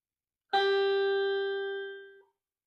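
One clean electric guitar note, a G on the first string at the third fret, is plucked and left to ring, steady and fairly bright, fading gently before stopping abruptly.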